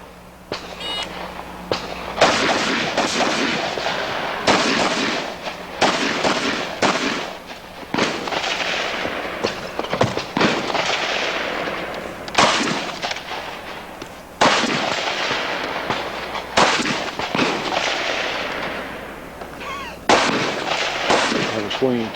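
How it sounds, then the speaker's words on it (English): Rapid bursts of semi-automatic AR-15 type rifle gunfire at a shooting competition, sharp loud cracks in fast strings separated by brief pauses, echoing outdoors, with faint voices in the background. "what we're going to see is AR-15 type guns"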